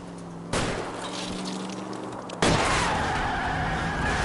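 Shots fired at a fleeing car's tires in L.A. Noire, heard as a sudden loud burst over a steady roaring car engine, followed by a second sharp crack and rising engine whine with skidding.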